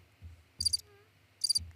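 Two short bursts of cricket chirps, each a quick trill, separated by a pause over a low background hum, clear and fairly close.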